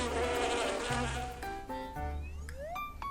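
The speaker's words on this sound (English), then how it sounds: "The bees continue to circle around me" Bees buzz and circle close around a person, a continuous insect drone with shifting pitch as they swoop near, heard alone without talk.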